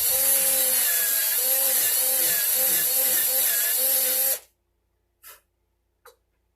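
Power drill boring through a wooden banjo headstock for the tuners, a loud continuous whirring grind lasting several seconds that stops abruptly, followed by two brief faint knocks.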